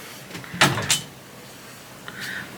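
A door is popped open with a couple of quick clicks and a thud, followed by a faint mechanical whir, in a quiet room.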